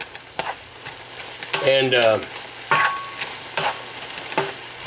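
Seasoned meat is stirred in a pan with a spatula, scraping and rustling in short bursts over a low sizzle, close and clear, while someone talks briefly.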